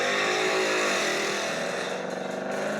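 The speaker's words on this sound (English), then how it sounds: "we have the actual car doing the burnout" A Ford Mustang doing a burnout, its engine revving in a loud, sustained roar that holds steady and then eases slightly toward the end, heard alone with no voices.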